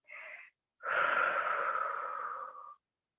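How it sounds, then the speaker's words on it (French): Breathing during a stretching exercise in a strength workout class: a short breath, a pause, then one long steady exhale lasting about two seconds, close and clear with no talk. "Soufflez bien."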